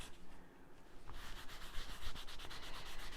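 Wax rubbed by hand over a wooden barn house cutout, a close, steady scuffing and rasping that turns into quicker rhythmic strokes partway through, with no talking.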